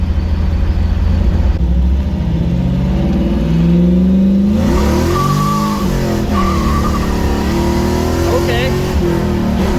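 An LS-swapped 1989 Chevy S10 Blazer, tuned, revs hard through first and second gear toward 6,500 RPM. The engine note climbs, drops at each shift, then rises again, loud from inside the cabin with people talking over it.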